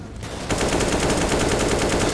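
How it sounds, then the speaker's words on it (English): Rapid automatic rifle fire from a wall bang attempt in Counter-Strike on Overpass, a loud sustained burst of evenly spaced shots. "Attempting the wall bang, not going to find any success."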